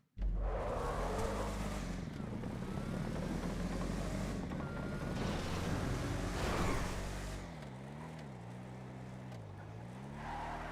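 A muscle car in GTA Online roars loud and close, its engine pitch climbing and falling through revs with tire squeal, then easing into a wavering lower drone.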